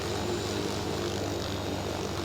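A Little Bird helicopter in a military video game, its engine running again after a restart, giving a steady, continuous whirring drone at moderate loudness for the whole stretch, with no voices.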